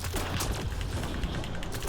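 Rapid gunfire from a Turian Soldier in the shooter game Mass Effect Andromeda, a dense, loud burst of overlapping shots and booms sustained without pause.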